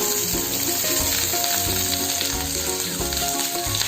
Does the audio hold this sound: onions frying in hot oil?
yes